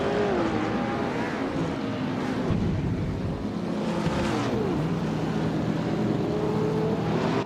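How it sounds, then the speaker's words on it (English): Simulated 1938 Mercedes-Benz W154 race car engines in a racing video game, a steady continuous drone with shifting pitch sweeps as engines rev and change gear, loud and sustained throughout with no talk. "Everlasting Apex is driving a 1938 Mercedes-Benz W154"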